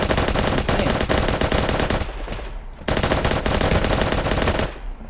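Dense automatic gunfire from many shooters fills the Ancient Warfare 3 video game battle, loud and continuous with a brief lull before the rapid firing resumes at full intensity.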